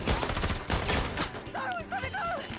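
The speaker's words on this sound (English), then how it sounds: "Man, this gunplay is great." Rapid anime gunfire from a Cowboy Bebop episode crackles in a dense volley, then cuts to quieter scene audio with tonal chirps.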